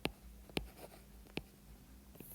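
Pen or marker strokes scratch across a board during a medical lecture on von Willebrand disease, several sharp taps and short scrapes spaced irregularly, quiet and close, with no speech over them.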